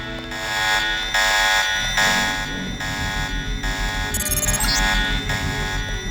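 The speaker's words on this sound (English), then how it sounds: "I need to wait for the alarm to settle down" An alarm in the video game Deus Ex sounds as a loud, steady electronic tone that pulses on and off in a regular rhythm and fills the scene for several seconds.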